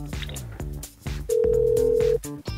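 A steady electronic telephone tone sounds while a call is transferred to a professor, held for about a second over background music and a few soft sounds.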